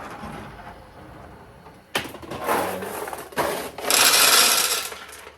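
Mechanical clatter and rattling from a restored vintage Kyoraku pachinko machine as balls are loaded. A quiet lead-in gives way to bursts of close, busy metallic rattling that build to a dense, loud stretch near the end.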